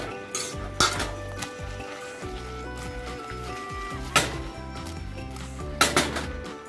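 Food tossed in a pan while cooking pasta with ribs and Brussels sprouts, with metallic clinks and scrapes over a steady background, plus a few sharper knocks of metal on metal.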